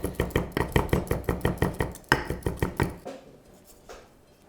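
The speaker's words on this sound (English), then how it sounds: "Finally chop your ginger and garlic together." Ginger and garlic chopped together with a knife on a board, a steady run of quick, sharp, evenly spaced knocks that stops partway through, leaving a quiet tail.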